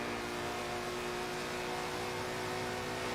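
A Ferrari race car engine in Forza Motorsport 7 climbing Eau Rouge at Spa, a loud, steady high-revving whine held at full throttle without pause.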